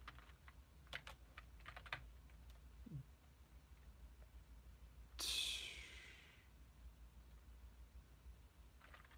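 Keystrokes on a computer keyboard come in short irregular bursts, fairly close and quiet, broken by a louder rustling swoosh midway and a few soft breaths.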